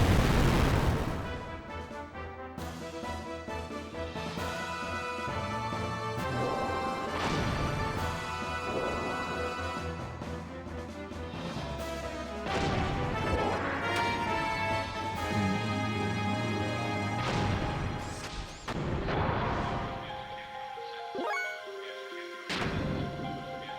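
An underwater fire attack in Xenogears erupts in rumbling booms and crashing bursts layered over tonal game music, loud and sustained across the stretch with several heavy impacts.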